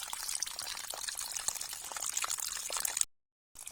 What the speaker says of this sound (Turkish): İşte su buradan geliyor.